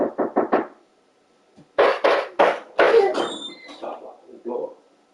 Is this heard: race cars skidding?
no